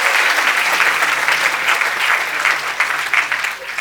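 A large audience applauds steadily and loudly at a sixth-grade graduation party, the dense clapping holding for several seconds without pause.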